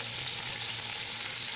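Chicken fries in a pan with a steady, close sizzle that holds without a break for the whole moment; nobody speaks.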